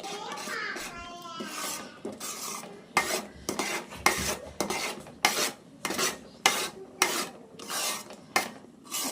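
A spoon scrapes and stirs thickening cashew burfi (kaju katli) mixture in a pan, with repeated rhythmic strokes close up.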